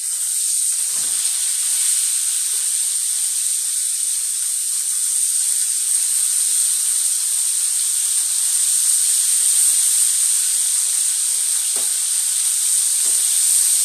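Food sizzles in a covered pan on a stovetop, a steady, loud, even hiss that runs the whole time, with a few faint low knocks scattered through it.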